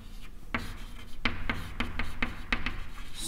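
Chalk or marker writing on a board during a lesson, a quick series of short scratchy strokes in an uneven rhythm, close and distinct with no talk over them.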